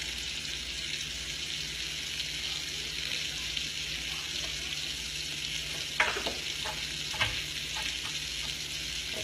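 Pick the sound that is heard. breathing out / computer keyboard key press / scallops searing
scallops searing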